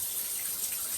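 Hot water runs from a bathroom tap in a cabin in the woods, a steady, hissing, close stream with no break.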